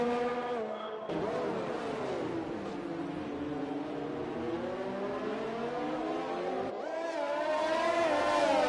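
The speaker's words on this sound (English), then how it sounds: "Wassman really trying to get the power down, get that car moving forward" F3 race car engines in the iRacing sim at a wet Singapore circuit scream and rise through gears as a driver fights for traction out of corners, with repeated climbing engine pitches that are continuous and close, then briefly cut and resume.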